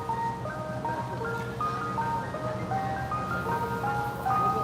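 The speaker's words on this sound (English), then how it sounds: "Fucking ice cream truck, man." An ice cream truck sits close by, its chiming jingle looping a bright repeated melody over a steady rumble of engine and street noise, with no talk.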